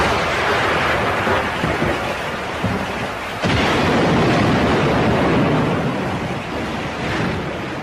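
Thunder rumbles through a storm with heavy, continuous roaring noise like pounding rain and wind, loud throughout, with a sudden swell partway through.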